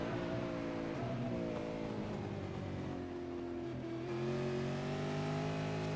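Several V8 Supercar race car engines in the iRacing sim at Brands Hatch, a steady loud droning roar with shifting pitch as the cars run close together, continuous and with no talk.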